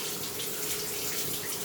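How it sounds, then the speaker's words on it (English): Steady running water pours from a tap over a Bissell PowerForce Compact vacuum filter being wrung out, a close, continuous hiss and splash with no break. "Wring this out a few times."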